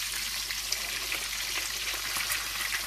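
Fish frying in a pan of hot oil while cooking African food, a steady dense sizzle and crackle close by that holds level throughout, with no voices.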